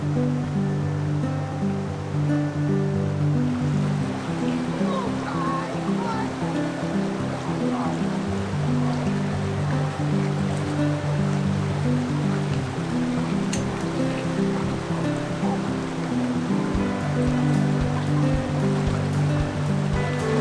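A river flowing beside a springtime dispersed campsite, a steady, loud rushing roar that continues unbroken throughout.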